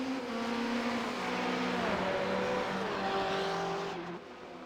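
BMW GTE race car engine in a sim racing game at Montreal, a steady loud drone with gliding pitch sweeps as the revs rise and fall through the gears, other cars mixed in, fading slightly at the end.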